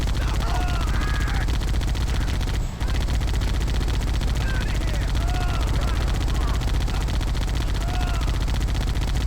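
Chain gun fire in the Halo video game, a dense, continuous rattle of rapid shots that runs loud and unbroken almost throughout, pausing only for a split second partway.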